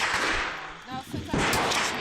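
A heavy, powerful weapon fires at close range, two loud booming blasts with broad noisy bursts, separated by a short lull in which a voice is heard.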